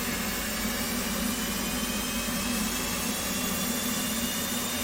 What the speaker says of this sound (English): So we'll crank the right engine first.